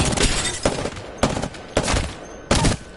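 Four sharp, loud bursts of automatic gunfire from an Apex Legends weapon fitted with a purple level 3 extended heavy mag, each rapid volley lasting about half a second with short gaps between.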